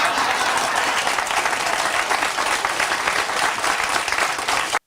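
Applause from a small studio audience in a tiny room, steady dense clapping that carries evenly throughout and stops abruptly at the end.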